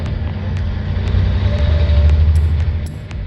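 A 2018 Volvo VNL day cab truck with a Cummins 400 engine and an Eaton Fuller 10-speed automated transmission accelerates from close by, its deep diesel rumble rising and then dipping as the gears change, with faint clicks over the engine.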